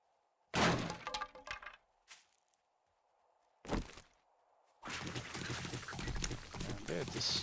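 Zombies smashing through blocks in the survival game 7 Days to Die, heard as loud crunching, cracking breaks in separate bursts, then a sustained stretch of dense rubble-like destruction at the end.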